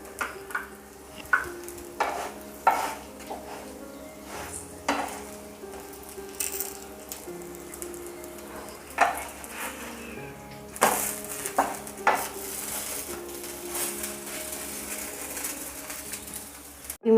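Vegetable pocket paratha sizzles in ghee in a pan over low gas, a steady quiet frying hiss broken by scraping and stirring touches from a spatula, with no voices.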